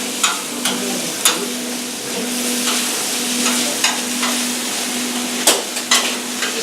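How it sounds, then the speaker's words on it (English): Rice water boiling on a stove during a sattvik cooking class, a steady bubbling hiss that carries throughout, broken by a few sharp clicks and knocks. "now the water on the stove with the rice is coming to a full boil"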